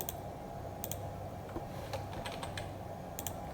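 Close computer keyboard typing during circuit design work, with irregular clicks and short bursts of keypresses over a quiet room hum.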